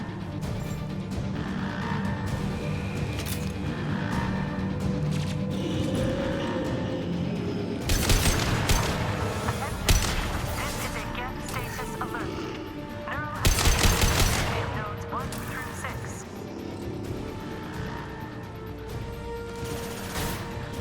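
Rockets and heavy fire streaking past during combat in Mass Effect 2, with loud whooshing blasts and crashes rising out of a steady layer of gunfire and game ambience.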